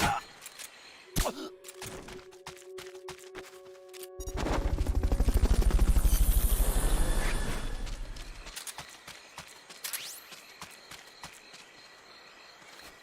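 A helicopter in the video game Metal Gear Solid Peace Walker: a rapid rhythmic rotor thudding swells up loud, holds for several seconds and fades away, surrounded by sparse clicks and quieter game sounds.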